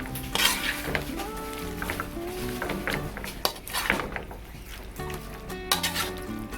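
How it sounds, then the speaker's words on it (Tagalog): A spoon stirs adobong dila, beef tongue, with basil leaves in a sizzling pan, scraping and clinking against the metal steadily and close up. "At hahaluin lang po natin to."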